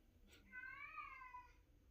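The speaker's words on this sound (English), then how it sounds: "This cat is really crying." A house cat gives a single drawn-out crying meow, rising then falling, faint and somewhat distant in a quiet room with no talking.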